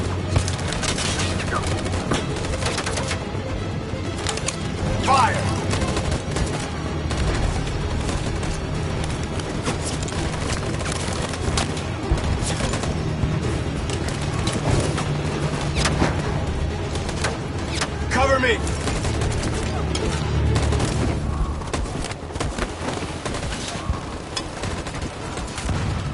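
Dense, sustained gunfire from a volley in the video game Detroit Become Human, loud and continuous for the whole stretch with scattered sharp bursts layered over a steady roar.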